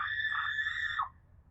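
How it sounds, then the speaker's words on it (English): A single scream rises and falls for about a second before cutting off, faint and distant in the background, with nothing else around it. "Somebody just screamed."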